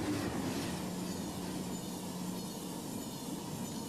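A Eurostar high-speed electric train runs on rails, giving a steady, close rushing roar with a faint sustained hum and no speech.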